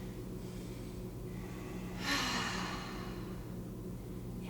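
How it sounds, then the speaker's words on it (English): A deep breath in and out during a yoga session, a soft airy rush swelling briefly near the middle and fading, close and quiet with no voice over it. "Take a big full breath in and"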